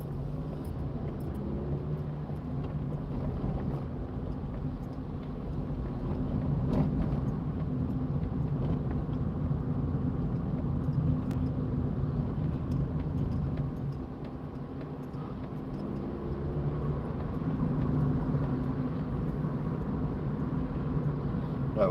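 A car rolls along the newly built A49 link road in Wigan, its engine and tyre rumble a steady, continuous drone close by, swelling slightly at moments, with no talking over it.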